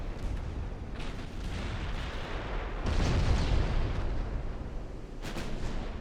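Naval gunfire and shell hits in the warship game Ultimate Admiral Dreadnoughts, secondary guns raking a ship, a continuous rumbling barrage of booms with a heavier surge midway and sharp bursts near the end.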